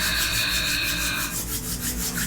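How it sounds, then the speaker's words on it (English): Hands rubbing briskly together during a gentle morning yoga session to build warmth, a steady close-up dry friction that continues throughout with no talking. "Rubbing your hands together to create a little warmth"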